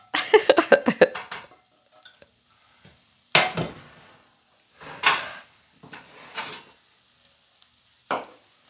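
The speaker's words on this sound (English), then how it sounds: "Hey, it's a tea pan." A pan handled in a home kitchen while preparing an omelet: a quick run of metallic clatters, then several separate knocks and scrapes spaced by quiet gaps, fairly close and clear.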